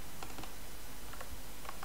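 Soft keystrokes on a computer keyboard come in short clustered bursts of clicks with pauses between, quiet and close over a steady low room hum, with no voices.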